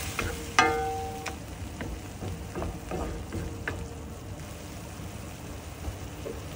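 Tomatoes simmer with fish sauce in a pan for Kapampangan buro kanin, a soft steady bubbling and sizzle with a sharp clink of a utensil early on and faint scrapes after.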